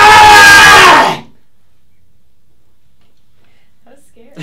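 A woman lets out one loud, shrill scream lasting about a second, followed by near silence with a faint noise at the end.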